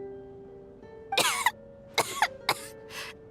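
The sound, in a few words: character coughing in video game Genshin Impact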